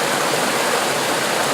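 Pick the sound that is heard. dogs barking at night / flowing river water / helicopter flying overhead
flowing river water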